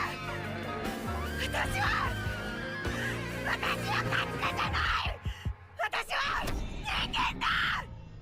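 Tsubomi, a normally reserved anime character from Kakegurui, screams at full volume in strained, ragged bursts over swelling dramatic music, the shouting breaking off and resuming several times with brief gaps.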